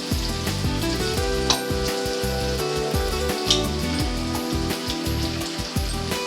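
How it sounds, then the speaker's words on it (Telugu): Tomato, onion, green chilli and ginger-garlic paste sizzle loudly and steadily in a pan, a continuous close frying hiss with occasional stirring scrapes. "టమాటా, ఉల్లిపాయ, పచ్చిమిర్చి, అల్లం వెల్లుల్లి పేస్ట్ ఇవన్నీ వేగిపోయినాయండి"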